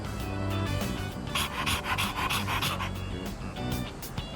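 Dog panting in Persona 3, rapid rhythmic breathy huffs repeating steadily and close up throughout, with a brief snort or gasp mixed in.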